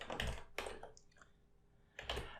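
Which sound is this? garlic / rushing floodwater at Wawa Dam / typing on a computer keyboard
typing on a computer keyboard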